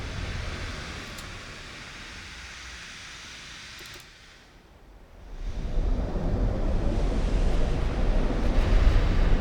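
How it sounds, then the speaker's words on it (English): Ocean waves and a light breeze in the naval game Ultimate Admiral Dreadnoughts: a continuous broad rushing wash that dips briefly to a softer lull midway, then swells louder and steadier, with no talking. "light breeze, smooth waves"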